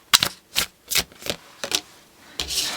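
Tarot cards handled and shuffled in several short, crisp bursts of riffling and rubbing, close and fairly loud, with brief pauses between them and no talk.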